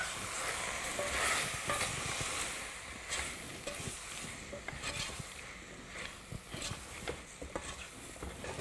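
Flour and vegetables cooking in a casserole pan for a creamy beef casserole, giving a steady soft sizzle with scattered stirring scrapes and crackles throughout.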